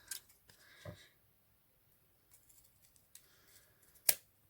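Scissors snipping through faux leather strips for a no-sew pinch bow, a few quiet isolated cuts with soft handling rustle between them and a crisp louder snip near the end.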